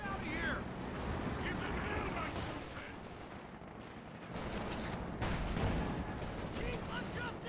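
Tank and infantry gunfire rattles through a Company of Heroes 2 battle, bursts of rifle and machine-gun shots with heavier cannon thumps, dense and continuous under steady commentary talk.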